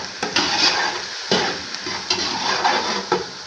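Carrots with black pepper, salt and chili sizzle in a frying pan while a utensil stirs them, giving steady close frying hiss broken by repeated scraping strokes.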